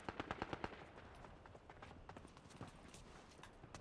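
Rapid gunfire behind the players in a video game, a fast run of sharp cracking shots at the start, then scattered bursts continuing through the clip, fairly quiet and distant.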